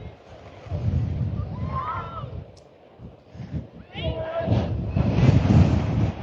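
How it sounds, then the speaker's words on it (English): A 40-mile-an-hour wind gust roars across the mic at a high school baseball game between Buena and Nogales, a heavy low buffeting rumble that swells and dips, with faint voices in the background. "And the wind now, that is a 40-mile-an-hour gust, man."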